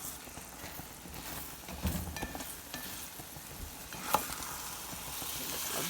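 An egg fries in a pan in Haitian-style cooking, with a steady close sizzle and occasional stirring or scraping knocks and no talk.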